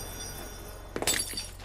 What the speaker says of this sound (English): Picking up the bag is accompanied by a clinking noise.